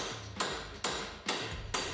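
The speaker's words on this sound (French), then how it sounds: "Il aime bien taper sur le marteau" A hammer strikes the metal of a van four times in an even, unhurried rhythm, each loud ringing clang decaying slowly before the next blow.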